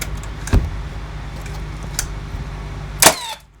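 A staple gun fires into a wooden bumper strip on a workbench, giving a few sharp, close clacks spaced over a few seconds against a quiet room hum.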